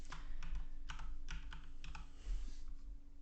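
A template name typed on a computer keyboard: quick clusters of light key clicks in short bursts with small pauses, close and fairly quiet, with no talking.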